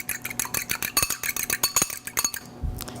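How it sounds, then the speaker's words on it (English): A fork whips egg white in a bowl, producing a fast, steady run of close metallic clinks and taps against the dish, ending with a softer thud. "With my fork, I'm going to end up whipping the egg white until"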